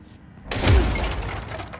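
Glass shatters in the video game Control: one sudden loud crash with a low thump and a spray of breaking shards that trails off into crackling debris over about a second and a half.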